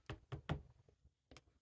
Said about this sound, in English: there was a knock on the kitchen door